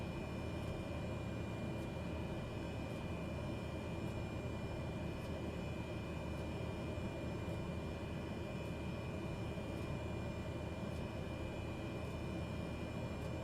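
Cessna 208 Caravan turboprop idling and taxiing in Microsoft Flight Simulator, a steady, dense engine drone with a constant whine holding level throughout, no pauses or voices.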